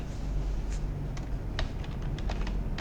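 Light keystrokes on a computer keyboard tap out a file name in a quiet room, a handful of soft, irregular clicks spread over a few seconds.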